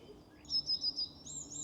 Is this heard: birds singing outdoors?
yes